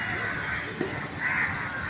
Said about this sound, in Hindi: पक्षी चहचहाट दे रहे हैं